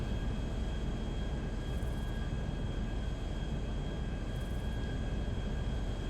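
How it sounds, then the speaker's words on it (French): A jet in GTA makes a steady, dense roar that holds evenly at constant loudness, with a thin whine layered over it and no variation, with no voices. "je vous offre une première vue du jet"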